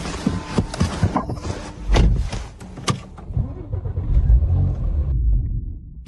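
A Porsche Macan Turbo's engine cranks and sputters with uneven bursts of rumble, catches briefly, then cuts out into near silence; close and fairly loud.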